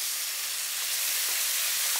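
Regular salted butter melting in a very hot pan for patty melts, giving a steady close hiss and sizzle with a few faint soft knocks.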